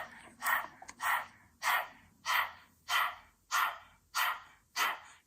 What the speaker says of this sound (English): Pant like a dog through the mouth.